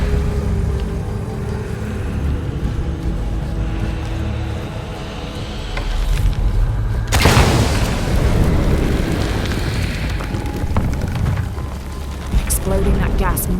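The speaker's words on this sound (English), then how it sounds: "Exploding that gas might move the pendulum." A gas explosion in the Shadow of the Tomb Raider video game: a sudden loud boom breaks out midway over a continuous rumbling game soundscape, then rolls on as a heavy, sustained roar.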